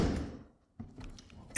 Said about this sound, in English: And then make sure you close the door